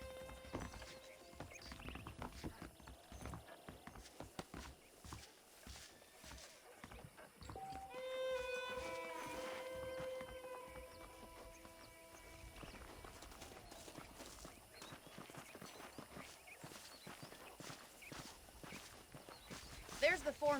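Horse hooves clip-clop at a steady walking rhythm while riding in the Western game Red Dead Redemption, with a whinny partway through and people talking over the hoofbeats.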